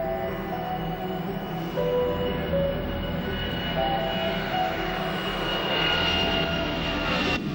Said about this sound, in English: A United Airlines DC-10 leaves Denver Airport bound for Chicago and Philadelphia